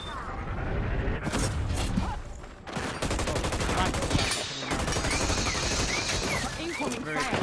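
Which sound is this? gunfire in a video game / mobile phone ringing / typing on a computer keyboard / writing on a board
gunfire in a video game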